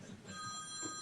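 A phone rings during a Newark city council meeting, its bright electronic tone sustained steadily over low room murmur, moderately close and fairly faint.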